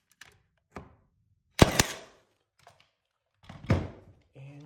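A nail gun fires into wooden door casing during millwork installation, giving a few sharp, close pneumatic bangs spaced apart, with fainter knocks and handling noise between them.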